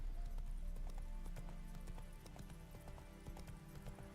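Roach the horse gallops in The Witcher 3, hooves clip-clopping in a steady rhythm over a busy game soundtrack, close and fairly loud throughout.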